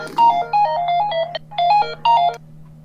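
A phone ringtone goes off in short repeated melodic bursts, loud and clear over a faint steady hum, with no talking during it.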